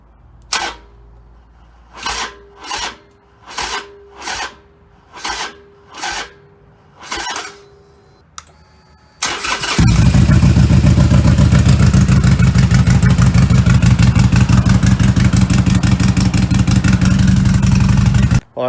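A 2007-or-later Harley-Davidson Sportster motorcycle on a fresh lithium battery cranks in seven separate bursts with pauses between, then catches and roars into a loud, steady idle up close.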